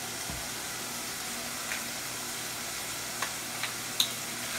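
Spices sizzling in a pan for a bitter melon, pork and black bean garlic sauce dish, a faint, steady hiss with a few small pops and crackles and no talking.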